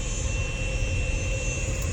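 Steady, continuous jet airliner engine drone at an LAX gate before pushback, a broad constant roar with a faint high whine, close and unchanging throughout.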